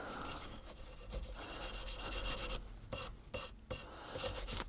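Abrasive rubbing as scale and discoloration are sanded off a metal part of a Smith & Wesson 1917 revolver, a close scratchy scraping in uneven back-and-forth strokes with brief pauses.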